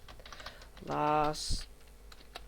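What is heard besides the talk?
typing on a computer keyboard into Google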